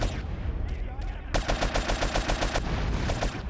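Rocket blast in GTA San Andreas with the game's gunfire: a noisy burst, then a fast run of loud, evenly spaced bangs like automatic fire, with more scattered shots following.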